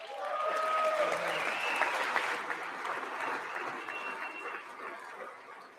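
Sustained audience applause fills the chamber at the State of the Union address, a dense wash of clapping hands that stays steady, then slowly thins and softens toward the end.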